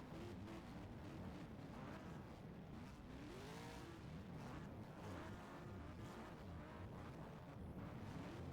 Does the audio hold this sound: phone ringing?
no